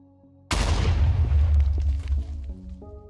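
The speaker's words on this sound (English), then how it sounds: "Redstone makes it explode immediately" A TNT barrel from a Minecraft mod blows up in the game, set off by redstone: one sudden booming blast with a heavy low rumble that fades over about two seconds, while a synthetic game tone plays before and after.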